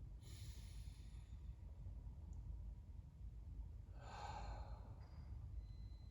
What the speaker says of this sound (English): Inhale through your nose. Exhale through your mouth.